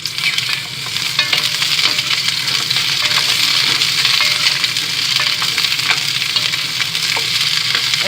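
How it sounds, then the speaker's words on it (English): Whole uncut cherry tomatoes fry in hot oil, a loud, dense, continuous sizzle with scattered sharp spits and crackles that holds steady for the full stretch after a brief quieter opening. "That oil is hot. Here's the cherry tomatoes."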